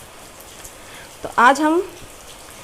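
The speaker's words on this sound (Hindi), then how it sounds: "यहाँ पर बैठ के अब मैं बारिश का मज़ा लूँगी" Steady rain falls as a soft, continuous hiss in the background while someone speaks briefly over it near the middle.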